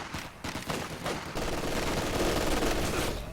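Light machine gun fire in a Company of Heroes 2 match crackles in a dense, rapid burst that runs almost the whole time, loud and continuous, over a busy battlefield backdrop.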